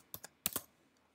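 Four faint computer keyboard key clicks come close by in two quick pairs, followed by near silence.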